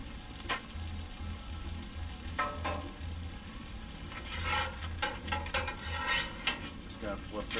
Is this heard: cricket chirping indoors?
no